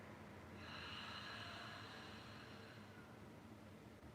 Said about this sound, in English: go ahead and open your mouth and hear your breath leave